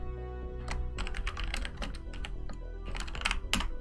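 Rapid typing on a computer keyboard in Notepad, a quick irregular patter of close, crisp key clicks in short bursts, with no talking.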